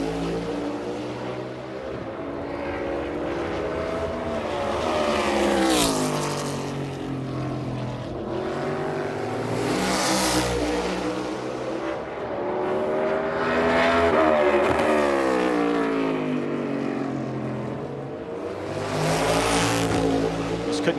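A NASCAR race car engine roars at speed during practice for the Xfinity 500, a droning rise and fall in pitch through the lap with repeated sweeps as the car brakes and accelerates, under quiet talk.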